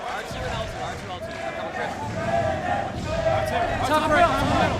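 A crowd roars and cheers at a Halo 3 MLG Pro Circuit event, a broad sustained swell of voices that grows louder toward the end, with commentators talking over it.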